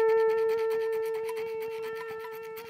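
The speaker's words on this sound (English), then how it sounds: "It's like a scrape on the fret." A steady sustained guitar tone rings beneath a rapid, gritty scratching of the string scraping on the fret, repeating in quick strokes, quiet and close.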